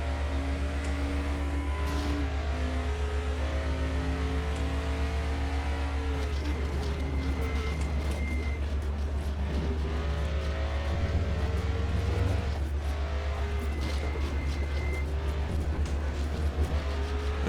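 Race car engines drone continuously in the Raceroom video game, a DTM92 Ford Mustang and rivals at Watkins Glen, a sustained loud whine with shifting pitch as cars jostle nearby.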